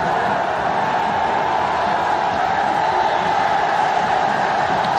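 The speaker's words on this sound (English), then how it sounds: "The capacity crowd here in the Sher-e-Bangla National Stadium." A capacity cricket crowd at Sher-e-Bangla National Stadium roars as a loud, dense, continuous wash of voices and cheering, steady throughout with no distinct single voice.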